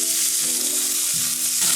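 A large cut of meat sits on a closed-lid barbecue heated to 250 degrees and sizzles loudly and close in a continuous hiss, with no talking.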